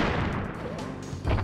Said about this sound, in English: these plants, which like to spit these little bombs